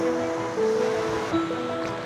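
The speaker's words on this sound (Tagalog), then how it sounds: "Ito ang Talon Pari Falls" Talon Pari Falls in Doña Remedios Trinidad, Bulacan, rushing as a steady broadband roar of falling water, close and continuous, with faint tonal sounds briefly over it.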